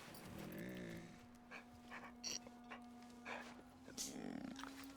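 A dog in the video game Soulframe pants and whimpers in short bursts against a steady droning game soundscape, close and moderately loud.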